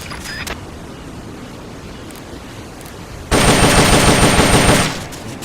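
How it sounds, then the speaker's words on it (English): Sustained burst of rapid automatic fire from an M16 assault rifle in the video game Metal Gear Solid: Peace Walker, loud and dense for about a second and a half after a stretch of low background ambience. "The M16's a standard assault rifle,"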